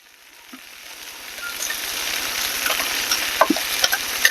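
Spam slices fry in a pan, a steady crackling sizzle that swells in loudness, with a few sharp clicks and taps of flipping utensils near the end and a low rhythmic hum underneath, no talk.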